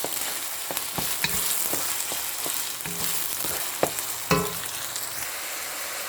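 Ground beef frying in a pan over medium-high heat for beef giniling, a steady close sizzle with scattered sharp clicks and scrapes from stirring throughout.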